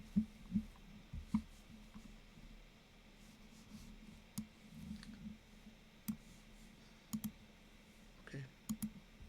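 Soft, scattered clicks of a computer mouse, faint and irregular, coming singly and in quick pairs over a quiet room tone.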